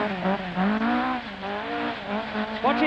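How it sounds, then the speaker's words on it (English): Rally car on a downhill run at the 1981 Esgair Dafydd Rallysprint, engine howling and revving hard with rising and falling pitch, loud and close throughout. "Locked up the front wheels there."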